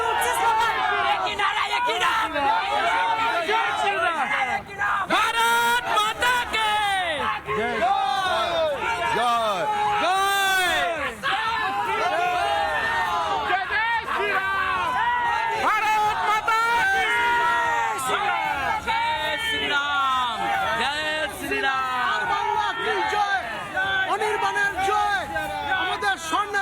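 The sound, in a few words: crowd chanting slogans at Modi rally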